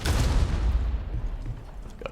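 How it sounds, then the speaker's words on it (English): A nitro charge detonates in Rainbow Six Siege, a loud booming blast that rumbles, then tails off into scattered crackling over about two seconds. "Got an explosion."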